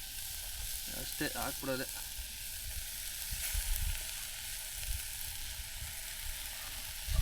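Washed poha (flattened rice) fries in a pan at an outdoor village cooking spot, giving a steady, fairly faint sizzle with some stirring, while a person speaks briefly over it.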